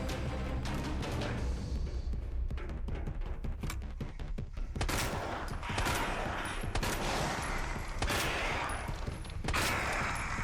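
Magnum revolver gunfire in Resident Evil 2 Remake, a series of loud sharp shots and clattering impacts at irregular intervals, with heavier booming blasts in the second half amid game sound effects.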